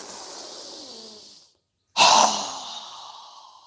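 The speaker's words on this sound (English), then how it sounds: "exhale through our mouth as we lower our hands down with a strong exhale" A strong, breathy exhale through the mouth during yoga breathing trails off, then after a brief silence a second forceful exhale bursts in loudly and fades away, close to the microphone.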